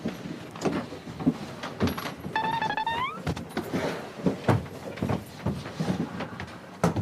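Elevator door sliding, with a rising squeal around the two-second mark over a busy background of knocks and soft, indistinct activity.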